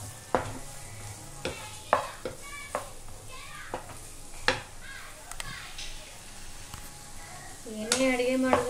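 Vegetables frying in a pan sizzle steadily while a utensil stirs and scrapes them in repeated strokes, with a voice talking briefly near the end.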